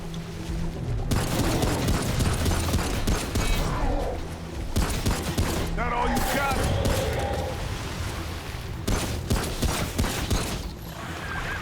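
Gunfire from the video game Remnant: From the Ashes, with loud bursts of rapid shots and booming impacts in several clusters separated by brief pauses, plus mechanical clanks, against a continuous game soundscape.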